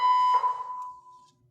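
An indoor fire alarm sounds a single loud, steady high-pitched electronic tone that fades out over about a second, with no voices.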